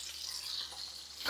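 Plantains fry in hot bacon grease with a steady, close hiss of sizzling that runs the whole moment, brightening slightly at the end, with no voice.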